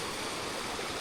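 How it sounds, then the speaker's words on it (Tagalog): Gentle river babbling past a campsite near Nagsabatan Falls in Zambales, a soft steady wash of flowing water, quiet and unbroken. "etong lagaslas nung ilog, hindi siya maingay"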